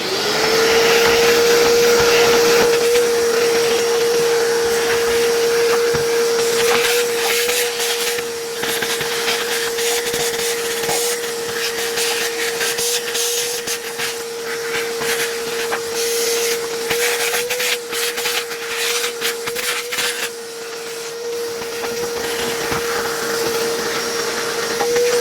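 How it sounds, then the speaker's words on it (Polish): A vacuum cleaner runs nonstop as it cleans the inside of a 1985 Farel OTW-2 fan heater, giving a loud, steady motor whine with hissing airflow that shifts slightly as the nozzle moves. "Mam już tutaj odkurzacz, biorę się za odkurzenie wnętrza tego termowentylatora."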